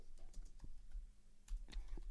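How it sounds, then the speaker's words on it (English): Keys clatter on a computer keyboard in short uneven bursts, close by, over a low background rumble, with no talking. "While McShane is typing that out"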